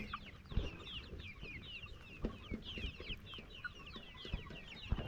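Improved kienyeji chickens on a layers farm keep up soft, continuous clucking and chirping from many birds, with occasional sharper taps and knocks from the flock close by.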